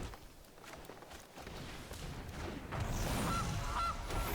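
A goose honks twice in the MTG Arena card video game, short clear calls near the end over a steady background hum, with no talking.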